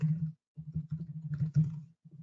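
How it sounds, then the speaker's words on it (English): Someone types on a computer keyboard during a live webinar, bursts of close, soft key taps with short pauses between runs. "Let me type it out."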